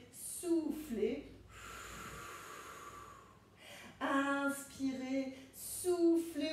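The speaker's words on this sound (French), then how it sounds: "Inspirez, soufflez" Deep breathing in and out during a Pilates exercise, a long airy exhale between spoken instructions from an instructor, with breathy gasps around the talk.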